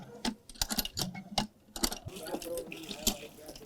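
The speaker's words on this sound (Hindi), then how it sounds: "बताओ, हैंडपंप को भी पहले पानी पिलाना पड़ेगा तब ये पानी देगा।" A village hand pump being primed and worked, with repeated sharp clanks and splashy gushes of water at an uneven rhythm, fairly close, with faint voices in the background.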